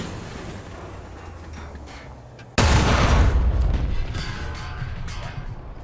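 A single loud tank cannon blast in War Thunder, heard from outside the vehicle: a sudden heavy boom over steady engine rumble, followed by a long rolling decay.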